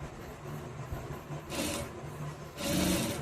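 A sewing machine stitches around a back neck design with a saree border, its motor whirring in short bursts with soft rhythmic needle ticking and no talk.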